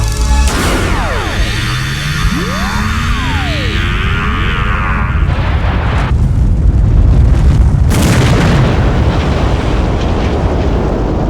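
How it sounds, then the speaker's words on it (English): A science-fiction effect of a sun blowing up in a supernova, opening with sweeping, swooping synthetic tones and rising whines before giving way to a loud, sustained roaring rumble with a fresh burst of crashing noise toward the end. "I'm telling you, it was a sun exploding."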